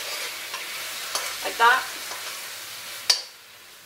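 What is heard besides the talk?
honey and balsamic vinegar sauce bubbling while stirred in pan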